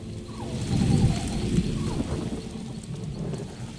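Rain patters steadily in a thunderstorm in The Elder Scrolls Online, with a low rumble of thunder swelling early and fading, loud and close with no talk.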